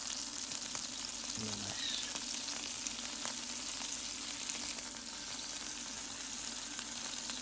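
An Iceland Big Daddy sirloin steak fries in a pan, with a steady, dense sizzle throughout and a brief spoken word.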